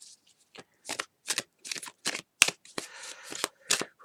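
Tarot cards being shuffled by hand: about ten quick papery riffling bursts in an uneven rhythm, close and clear, with no talking.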